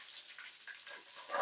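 Curry leaves crackling in hot oil with fenugreek, mustard and cumin seeds for a Rayalaseema-style fish curry, a faint, light sizzle with scattered pops.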